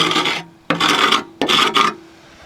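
A screwdriver scrapes rust off an Emerson electric motor in three rough, rasping strokes, loud and close, with brief pauses between them.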